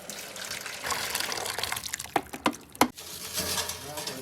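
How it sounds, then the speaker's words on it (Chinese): Water pours into a hot pot holding a clear broth and a spicy mala broth, giving a steady gushing fill that ends in a few louder splashes and clunks. "加水。"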